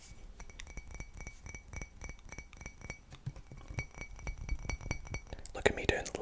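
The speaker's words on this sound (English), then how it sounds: "Look at me doing layered triggers out here, holding a bottle and a glass at the same time" A glass bottle and a drinking glass tapped together in a quick, rhythmic series of bright clinks, close up, with soft whispering and a rustle near the end.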